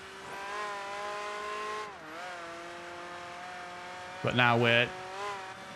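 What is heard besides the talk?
race car flutter valve between gear changes, Project Gotham Racing 3 video game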